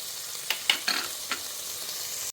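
Zucchini, squash and carrot frying in a pan for a Thai curry, a quiet steady sizzle broken by a few sharp clinks and scrapes of stirring.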